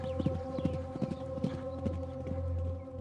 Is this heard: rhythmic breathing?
no